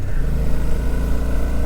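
A Suzuki V-Strom motorcycle engine labours in first gear up a steep mountain pass in Ladakh, a loud, close, steady low rumble with a throbbing pulse and no voices.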